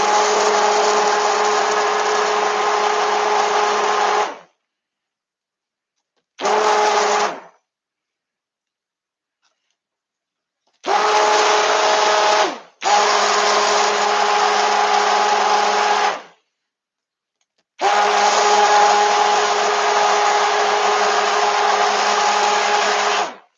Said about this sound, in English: I'm gonna stick blend this in first